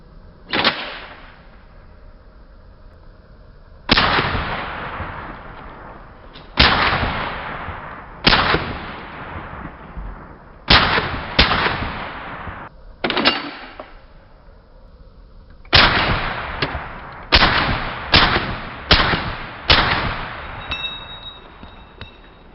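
Rifle shots from a Springfield Hellion and an IWI X95 Tavor, fired suppressed, ring out as a series of sharp cracks with decaying tails: isolated shots early, then quicker clustered strings, loud and close.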